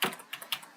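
Quick burst of computer keyboard typing, a handful of light close clicks in under a second, fairly faint and with no talking.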